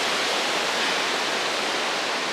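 Ocean waves wash in a constant broad hiss of surf, loud and close with no break or voice throughout.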